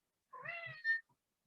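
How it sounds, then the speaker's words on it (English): A pet cat lets out a single clear, close meow that rises and then falls, in an otherwise quiet room with no talking. "my cat's chiming in"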